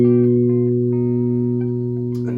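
A single guitar note fretted at the second fret of the A string rings out alone, clear and sustained, then slowly fades over about two seconds.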